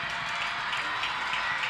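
A stadium crowd roars steadily after a Michigan State penalty goal in a women's college soccer rivalry match, a dense continuous cheer with scattered clapping heard from a distance.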